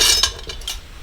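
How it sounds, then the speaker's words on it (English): A utensil stirring melted butter and flour in a pot: a few quick scraping clinks against the pot over about a second, close and clear, with no talk. "I'm already starting to stir"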